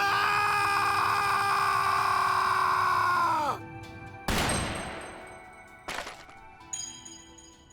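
Video game gunfire in Trails Through Daybreak II: a sustained, rising mechanical whine cuts out, then a sharp loud blast follows, trailed by two smaller cracks with ringing decay.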